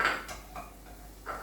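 Onion and other fried food for a roti john being tipped into a small bowl, giving a few light clinks and scrapes of a utensil against the dish, soft and close in a quiet kitchen.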